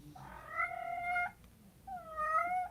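A pet cat named Loki meows twice, two drawn-out tonal calls with a short pause between them, close by in a quiet indoor room.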